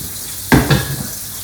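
Meatballs browning in a Le Creuset pan for an Italian recipe, with a short burst of sizzling and stirring clatter midway, loud and close, fading to a soft background hiss.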